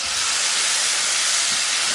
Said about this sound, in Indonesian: Ini kita tumis pakai minyak bekas goreng cabai tadi ya